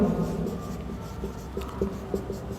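Chalk or marker writing on a classroom board during a solid-state chemistry lesson, steady scratchy strokes with a few brief taps, close and moderately loud with no talking.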